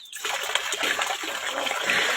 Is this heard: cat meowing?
no